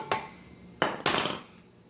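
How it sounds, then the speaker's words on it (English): Two or three sharp metallic strikes of a hammer knocking a bearing out of a bicycle part, the first lighter and then two heavy close blows about a quarter second apart, each ringing briefly. "I'm just going to hammer it out, and the bearing will just fly right out"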